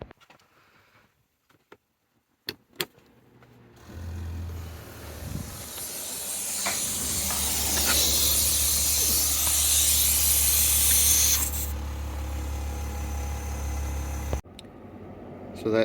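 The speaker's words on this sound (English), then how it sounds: "let's see how long it takes to fill up this tire with the factory unit" A Vauxhall Trailblazer's factory onboard compressor inflates a car tire with a steady, loud hiss and low motor hum that starts after a few clicks and runs continuously for about ten seconds before cutting off.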